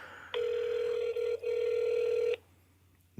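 An outgoing call to Jared's phone rings out as a steady, bright two-part ring tone, close and loud, briefly dipping midway before cutting off into near silence.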